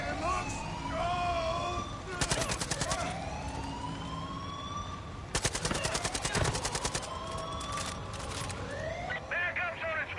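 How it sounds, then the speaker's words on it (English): Heavy gunfire in Far Cry 5, with dense bursts of rapid automatic shots close by, mixed with wailing siren-like game effects and other sounds. "Oh, I'm under heavy fire."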